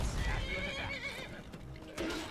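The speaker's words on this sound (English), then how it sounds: "Horse, I believe!" A horse whinnies in the video game Skyrim, a drawn-out neigh fading over a couple of seconds amid game background noise.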